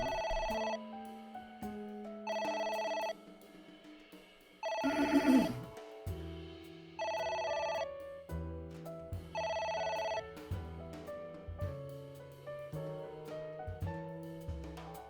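A phone rings in the video game AI: The Somnium Files as a repeating electronic ringtone, several bursts over a game music backdrop, one burst louder and noisier.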